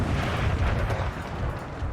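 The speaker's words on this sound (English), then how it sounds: "My cannon just fired blank" Cannons fire in a fort battle set in the 13 Colonies in Empire: Total War with the Darthmod mod, a dense, continuous rumble of loud booms and battle din with no clear gaps and no talking.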